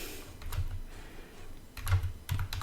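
Someone types a website address on a computer keyboard: close, crisp keystrokes come in quick bursts separated by short pauses, with no talking.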